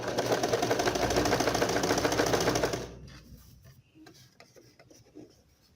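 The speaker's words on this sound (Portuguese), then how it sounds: "Vou costurando sempre em cima da linha amarela." A sewing machine runs steadily while stitching a trouser crotch seam along a yellow line, a loud continuous rattling whir for about three seconds that then stops, leaving faint handling noises.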